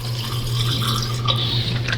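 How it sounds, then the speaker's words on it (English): Liquid sloshing inside a plastic Gatorade bottle, a steady watery swirl with small splashy bursts, held close and fairly loud over a low constant hum, with no one talking. "Some Gatorade bottle ASMR."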